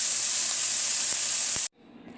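A Hello Fresh Monterey Jack burger patty sizzles in a pan with a loud, dense, steady hiss that cuts off abruptly near the end, leaving faint quiet crackling.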